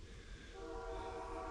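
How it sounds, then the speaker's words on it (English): A train runs along a track not far off outdoors in windy bear country, a steady low rumble under wind with a sustained horn-like tone rising in the second half. "There's a train. Train's not too far away today."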